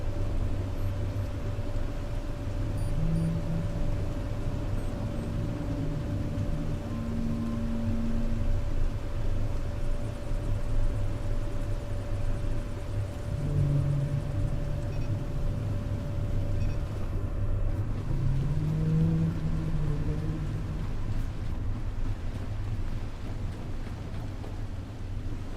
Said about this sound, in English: Get the diesel engine running as well in a minute.